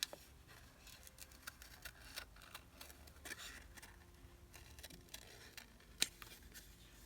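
Scissors snipping paper pieces for a spring collage journal page, faint close clicks and cuts in an irregular scatter, with a sharper snap near the end and no talking.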